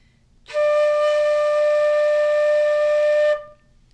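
A flute sustains a single steady D note for about three seconds, clear and close, with a pure tone and soft onset, played alone without talk.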